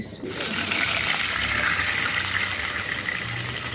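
Water poured into a pot before semolina is added, a loud, continuous gushing pour heard close up after a brief clatter at the start.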